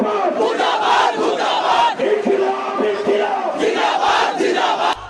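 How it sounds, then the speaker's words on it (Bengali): A loud political crowd at a street rally in Bangladesh chanting the slogan Inquilab Zindabad, many voices shouting in rhythmic unison, close and continuous for the whole stretch. "রাজপথে রাজনৈতিক কর্মসূচিতে শোনা যাচ্ছে ইনকিলাব জিন্দাবাদ, ইনসাফ, আজাদি এমন কিছু উর্দু শব্দের স্লোগান"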